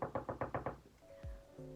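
A quick run of six even knocks on wood, close and fairly loud, followed by a short hum and a clatter.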